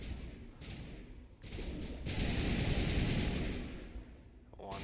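Rifle gunfire in the Mass Effect video game, a long stretch of dense, rapid shots blending into a loud continuous barrage with thuds, heard alone.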